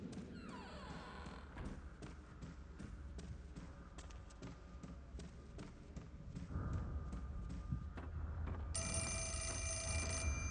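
A telephone rings inside the horror video game Fatal Frame: Mask of the Lunar Eclipse, a string of rapid bell pulses repeating over a low ambient drone, with a brighter sustained electronic tone entering near the end.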